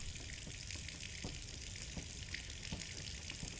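Rising flood water in the horror video game Scarlet Hollow: a steady, dense rushing and hissing wash of water with faint splashy ticks, constant in level throughout. No one speaks.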